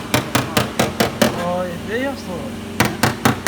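During simple bodywork, a hammer beats lightly on a car body panel to flatten small raised bumps. Quick close knocks come in a steady run, pause while someone speaks briefly, then resume.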